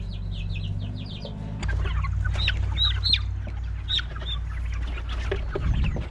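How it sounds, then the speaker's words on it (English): Chickens and chicks on pasture cluck and peep repeatedly in short, scattered calls over a steady low hum, fairly close and moderately quiet, with no talking. "Look at the chicks go, they're loving it."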